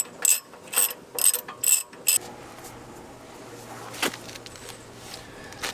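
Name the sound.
19mm ratchet tightening on a ball joint tool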